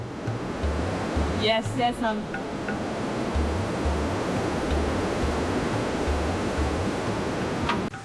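Gentle ocean surf rolls steadily onto Kokobite Beach in Ghana, a continuous wash of breaking waves with a low rhythmic pulse underneath, while someone speaks briefly over it.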